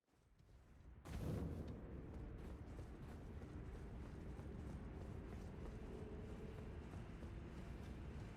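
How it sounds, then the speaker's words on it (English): Elevator ride in Elden Ring: a low mechanical rumble starts abruptly about a second in and holds steady, with creaking, grinding machinery throughout and no voice. "I'll have to ride the elevator again"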